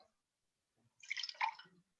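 Acrylic paint in cobalt blue drips onto a surface in a short, faint cluster of soft wet drops that lasts about a second, with quiet surroundings and no talk.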